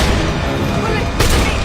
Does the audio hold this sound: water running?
no